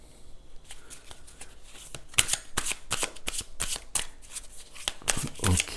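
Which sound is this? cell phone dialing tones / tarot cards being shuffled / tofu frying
tarot cards being shuffled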